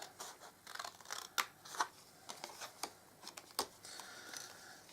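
Scissors snipping through card for recipe card bunting, a quick irregular run of close, crisp cuts and paper rustles, soft and without talk.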